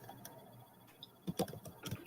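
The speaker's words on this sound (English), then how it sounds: "I'm actually typing something really quick too" Quick, faint typing on a computer keyboard, scattered soft key clicks that cluster into a faster burst toward the end, close and quiet.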